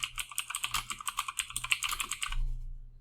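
Rapid keystrokes clatter on a computer keyboard, a quick uneven run of close, crisp taps that stops near the end, leaving a low hum.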